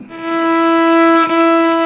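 A bowed Khmer fiddle holds a single steady note E, clear and close, sustained for a couple of seconds with no voices.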